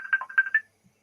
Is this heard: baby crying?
no